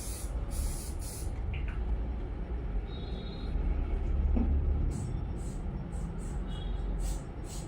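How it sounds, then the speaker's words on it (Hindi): Bursts of side hair spray misted onto styled hair, several short hissing puffs at the start and again near the end over a steady background rumble. "इससे थोड़ा साइड स्प्रे करेंगे।"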